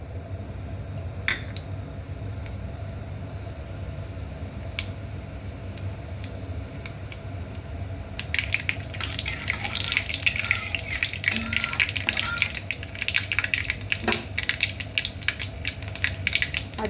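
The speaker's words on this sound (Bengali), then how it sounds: "সর্ষের তেল এখানে গরম হয়ে গেছে, আর আমি এখানে ফোড়ন দিয়ে দিচ্ছি গোটা সর্ষে, গোটা জিরে, আর হচ্ছে শুকনো লঙ্কা একটা" Whole mustard seeds, cumin and a dried red chilli crackle and sizzle in hot mustard oil, steady at first and then swelling into a busier, louder spitting that carries on throughout.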